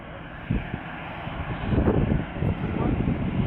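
An Air France airliner taxiing at Atlanta airport gives off a steady low engine rumble that swells slightly midway, heard from a distance through wind-buffeted outdoor noise.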